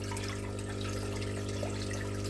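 Water gurgles and splashes steadily as a cup scoops and pours it from a fish tank, a continuous liquid wash over a low constant hum with no pauses.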